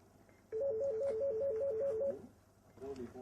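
A telephone rings on a call to the French emergency number 15. A clear warbling two-tone ring repeats rapidly for about one and a half seconds, then a softer tone follows at the end.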